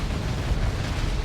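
A nuke detonating in the real-time strategy game Dawn of War 2 during a 3v3 match, heard as a dense, sustained low rumbling blast that stays loud and steady for the whole moment, with no voices over it.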